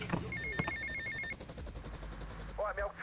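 A phone rings in Grand Theft Auto: Vice City, a repeating electronic trill that sounds for about a second over game noise and a low rumble before fading into background game sounds.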